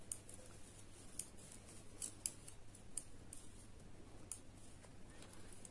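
Small scissors snipping yarn during crochet work, faint and close, a few sparse crisp snips spread over several seconds against a quiet room hiss.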